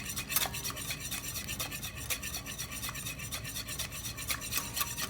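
An emulsion whisked by hand in a bowl during a garde manger kitchen lab, a steady rapid scraping and stirring rattle that continues without pause, close and moderately loud.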